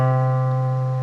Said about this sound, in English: If I play the musical note C